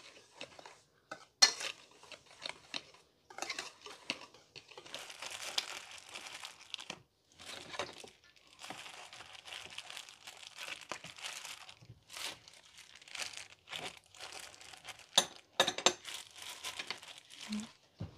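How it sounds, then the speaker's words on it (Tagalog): Pastry cutter working cold butter into flour in a bowl, quiet irregular scraping, crunching and metallic clinks in short bursts with brief pauses, close and alone. "Gagamit lang po ako ng pastry cutter para ma-mix po yung ating butter dito sa ating flour."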